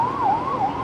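An ambulance siren wails in a steady rising and falling sweep as the vehicle passes along a street. It sounds fairly close and clear over low road rumble, with no talking.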